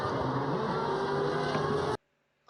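A Formula 1 safety car's engine on a racing circuit, a steady, loud droning roar that holds for about two seconds, then cuts off abruptly into near silence.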